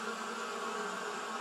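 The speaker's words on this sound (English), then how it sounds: "The bees were too cold to be cross, so they buzzed around the fireman." Steady, continuous buzzing of a swarm of bees circling close by, droning evenly without pause and with no voices over it.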